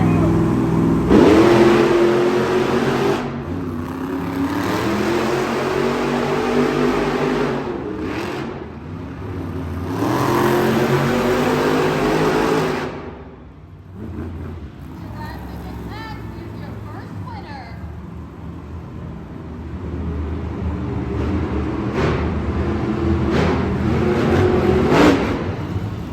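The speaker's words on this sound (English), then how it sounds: "Trucks are lining up to the starting line." Monster truck engines rumbling and revving at the starting line of a Monster Jam race in Tucson, Arizona, a loud sustained roar that dips briefly midway and then builds again, with an announcer talking over it.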